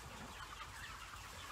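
Inside a chicken house full of 39-day-old birds, a soft steady chorus of clucking and peeping from many chickens, faint and even with no standout calls.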